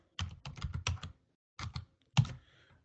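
Keys tapped on a computer keyboard while entering a command, two quick bursts of close, crisp clicks followed by a single heavier keystroke like the Enter key.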